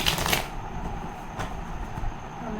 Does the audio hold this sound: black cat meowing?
no